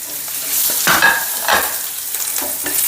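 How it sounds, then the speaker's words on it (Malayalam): Chopped garlic and ginger frying in a little oil in a pan for veg momos, a close, bright sizzle with spoon stirring strokes scraping across the pan. "തരി ഓയിൽ ഒഴിച്ചു. ഇപ്പം മാറ്റി വെച്ചിട്ടുണ്ടായിരുന്നില്ലേ, ആ വെളുത്തുള്ളി അരിഞ്ഞതും ഇഞ്ചി അരിഞ്ഞതും ഇട്ടു."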